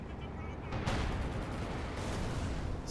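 Anti-tank gun fire in Company of Heroes 2, a dense battle din of booming shots and crackling gunfire, with a sharper blast near the start and steady rumble throughout.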